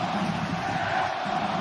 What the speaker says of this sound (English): the Guadalajara fans respond by cheering even louder